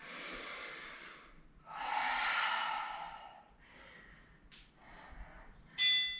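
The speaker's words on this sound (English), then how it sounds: "Big breath." Deep, audible breaths in and out during a home leg workout, close to the microphone: a long exhale, a stronger breath, then softer ones and a sharp final puff.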